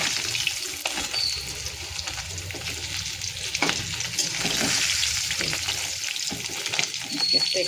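Pieces of tilapia fish fry in hot oil with a steady, dense sizzle and crackle that rises and falls while the pan is stirred now and then, fairly close and moderately loud.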